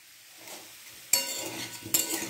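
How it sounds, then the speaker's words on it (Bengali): Food being stirred and sizzling in a hot pan during home cooking. A close spoon scrape and a soft fry are broken by two sharp clatters of utensil against pan. "তো দেখো আমি রান্না করছি"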